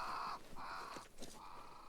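Crows caw in the video game Banishers: Ghosts of New Eden, three drawn-out harsh calls in a row, clear and prominent over a quiet ambient background.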